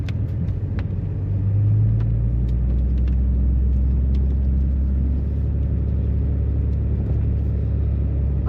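A four-wheel-drive vehicle rolls along a storm-damaged forest road, its engine a steady, loud low rumble close by that rises slightly in pitch partway through, with no talk.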